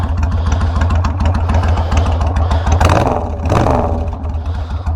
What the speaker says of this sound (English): So what we got here today, guys, is a 2005 Suzuki Boulevard S83